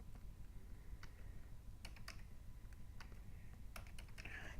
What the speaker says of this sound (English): once you typed in the IP address